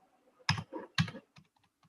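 Two quick bursts of typing on a computer keyboard, a cluster of close clicky keystrokes followed by a few lighter, scattered taps.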